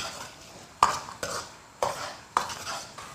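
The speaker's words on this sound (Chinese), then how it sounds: "用小火一起炒出香味" Ginger, scallion and garlic stir-fried with chili sauce and a chunk of hotpot base in rapeseed oil over low heat, a spatula striking the wok in four sharp scrapes against a faint background sizzle.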